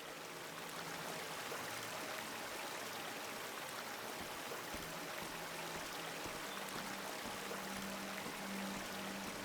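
Fresh water flows steadily in a continuous, even hiss of running water, like a stream or a pour, with no voices.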